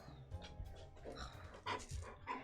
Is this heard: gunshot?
no